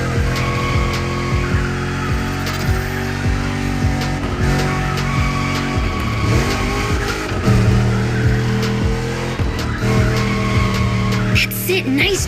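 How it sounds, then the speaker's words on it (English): A car in The Crew Motorfest drifts with sustained loud tire squeal and a revving engine, continuous skidding that rises and falls over several seconds. "That's it, nice drift."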